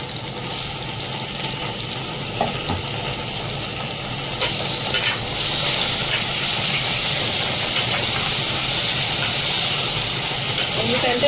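Goat head meat curry sizzles and hisses in hot oil, a loud steady frying crackle with occasional stirring scrapes that grows denser and brighter midway through, with no talk.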